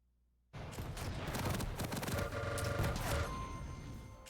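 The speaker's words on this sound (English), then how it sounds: "A little bit of machine gun after." Dense rapid-fire machine gun bursts in Quake rattle loud and close, starting abruptly after a brief quiet moment and continuing as a thick barrage mixed with other combat noise.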